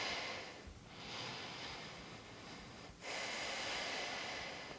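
Slow breathing in and out through the nose during a calm meditation, soft and close, with two drawn-out breath cycles and a brief pause between them.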